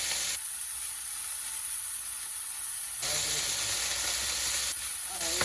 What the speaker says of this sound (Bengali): এই যে মলা মাছের চচ্চড়ি আর হচ্ছে